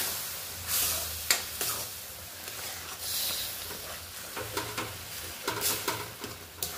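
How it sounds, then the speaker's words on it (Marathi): Pineapple and semolina sheera is stirred in a pan, a soft sizzling hiss broken by repeated scraping strokes of a spoon against the pan, close and fairly quiet. "आता सगळं मिक्स करून घ्यायचं आपल्याला पाइनएप्पल आणि रवा।"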